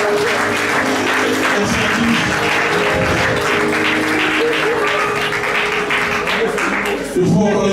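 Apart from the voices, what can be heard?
congregation applauding in church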